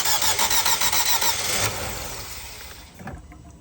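A 2017 Nissan Sentra engine cranks loudly with a rapid, rhythmic starter chug, nearly catches, then the sound fades into a lower rumble and a brief final stir, no one talking.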